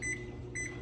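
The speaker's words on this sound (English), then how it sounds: "So now we're gonna microwave our mixture." A microwave oven hums steadily while heating a French toast mixture, with two brief high tones sounding close by over the drone.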